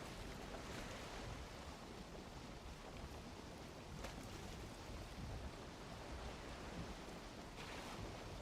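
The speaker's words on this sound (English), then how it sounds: "The wind, the waves are choppy." Choppy sea waves and gusting wind in the Valheim video game, a steady broadband wash that stays loud and continuous throughout, with no voices.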